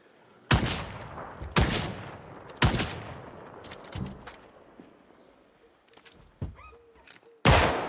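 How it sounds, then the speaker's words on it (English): Sharp gunshots from a 9mm pistol in the zombie survival video game Project Zomboid, several loud cracks spaced roughly a second apart, with fainter game ambience and small clicks in between. "Two shots on the 9mm."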